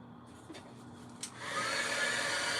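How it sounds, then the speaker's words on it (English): Heat tool switching on and blowing steadily to dry a fresh layer of Mod Podge on a craft door hanger, a close, even airy rush after a few faint handling taps. "Or quicker with the heat tool."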